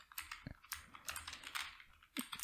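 Rapid, irregular clacking of keys on a computer keyboard as code is typed, close and crisp, with short pauses between bursts.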